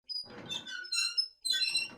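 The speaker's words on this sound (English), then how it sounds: "So I found some parts of the squeaky gate" A squeaky gate creaks in two drawn-out, high-pitched squeals, the first longer and wavering, the second starting after a short gap, close and fairly loud with no talking.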